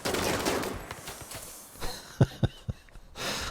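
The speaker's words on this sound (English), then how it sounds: "I love that chain gun. It's so good." Legendary chain gun firing in a video game: a dense rattling burst of rapid fire, then a few separate heavy shots trailing off, loud and close, with no talking.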